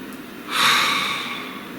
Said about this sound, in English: Please take a nice deep breath.